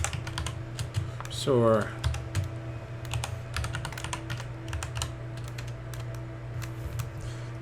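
Fast typing on a computer keyboard, a dense run of close clicks and key taps for several seconds under a low steady hum, while someone talks briefly.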